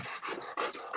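A dog, heard outdoors in Ohio, pants and whimpers close by in quick, breathy bursts, with a soft yip or two among the uneven huffing.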